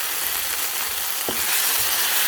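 Onions and tomato fry in a pan with a steady, dense sizzle, close and continuous, with no voices.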